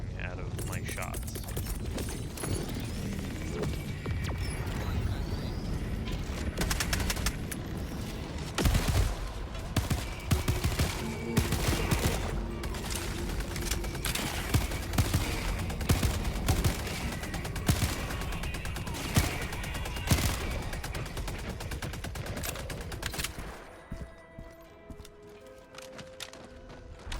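Anti-material rifle fire in Helldivers 2 shows up as repeated heavy sharp shots inside dense, continuous battle noise, with gunfire and mechanical clatter throughout and speech over it, all fading down near the end.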